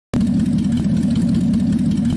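A vintage Ford 534 cubic-inch V8 in a modded truck game idles with a deep, throaty lope right after starting, steady and loud with a rumbling uneven beat and no talk.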